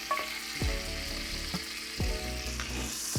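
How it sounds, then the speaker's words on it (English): Garlic sizzling in a hot frying pan while making a steak sandwich, a steady close frying hiss with a few soft stirring scrapes and taps, no talking. "Throw our garlic on there."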